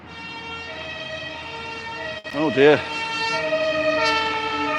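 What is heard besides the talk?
fire engine siren passing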